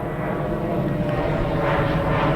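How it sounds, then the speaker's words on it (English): An airplane passes overhead, a loud, steady broadband roar that fills the whole stretch without breaks. "So even when the plane goes over now"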